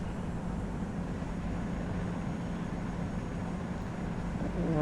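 Air India A330 airliner engines spooling up for takeoff on runway 27 at Bombay in a flight simulator game, a steady broad roar that swells slightly toward the end, no talk.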